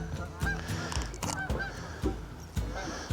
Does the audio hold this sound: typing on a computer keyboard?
no